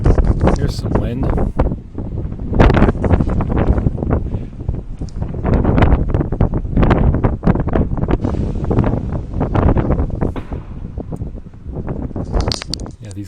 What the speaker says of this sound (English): Here's some wind.